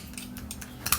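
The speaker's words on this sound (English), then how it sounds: "then I'll have to stir and mix it really well." A spoon clinks and scrapes lightly as it stirs and mixes a homemade rosemary skin remedy in a bowl, giving a few quick, faint taps over a low hum.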